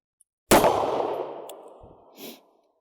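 A single sharp report from a snub-nosed revolver: a loud, close bang at once, then a long ringing decay and a faint metallic clink near the end, with no voices.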